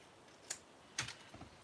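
Keys strike a typewriter in a few quiet, sparse clacks, two sharper hits followed by a softer pair, close by in a calm room.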